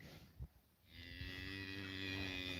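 A Jersey cow on a farm lets out a long, loud moo that swells and holds steady after a brief soft rustle, with no talking over it.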